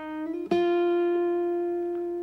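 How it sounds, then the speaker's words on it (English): A single guitar note is picked, slides up two frets and is picked again, then rings out clearly and alone, fading slowly. "When you slide to a note, you can pick it when you get there."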